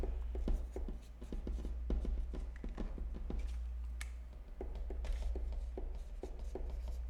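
A pen or marker writes a name on an item in quick scratchy strokes and taps, close up, with an irregular rhythm over a steady low electrical hum.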